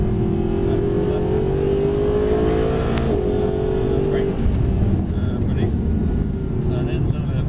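A Mercedes SLS AMG engine at full power during a driving session on a course, a loud, deep roar that rises in pitch and then drops off, with a brief sharp tick midway and engine noise rumbling on afterward.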